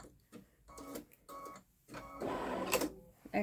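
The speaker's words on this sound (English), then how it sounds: "Cutting the thread." A Babylock Solaris Vision embroidery machine trims its thread with a run of short mechanical whirs and clicks, a louder burst of motor noise near the end, close by and without speech.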